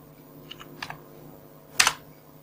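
Typing on a computer keyboard during Android app coding: a few soft scattered key taps followed by one sharper, louder clack, close and quiet, with no talk.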